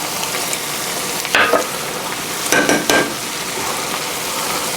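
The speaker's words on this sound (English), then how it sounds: "Now those will cook on down there, and they'll be soft fried potatoes." Soft-fried potatoes sizzle steadily in a pan with a broad crackling hiss, broken by a few brief louder scrapes and stirs.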